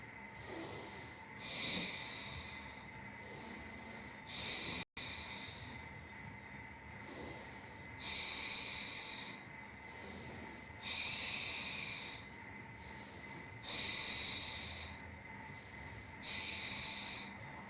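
Slow rhythmic breathing during an abdominal exercise: repeated breathy inhales and airy exhales at a steady pace, close and fairly quiet over a faint hum, with no talk.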